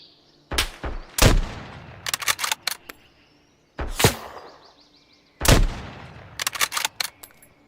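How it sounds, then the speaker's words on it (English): Gunfire in the video game Road to Vostok: sharp, loud single shots and short bursts, several spaced clusters of cracks with quiet gaps between, alone without talk. "real bullets flying over my head"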